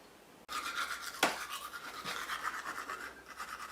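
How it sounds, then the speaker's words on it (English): Steady, rapid scrubbing of a toothbrush on teeth in a house under renovation, close and continuous after a sudden start, with a couple of light knocks and no talking. "Name's getting ready for bed. That's why you can hear toothbrushing."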